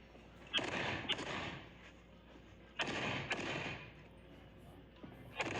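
Pistol shots ring out against steel targets on a USPSA stage called Escape from Alcatraz: several sharp cracks in quick pairs with short pauses between them, each followed by a brief ringing decay.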